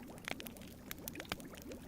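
Water pours from a big jug in the video game The Book of Unwritten Tales, a faint, brief trickle with a few soft splashy bursts, quiet and close.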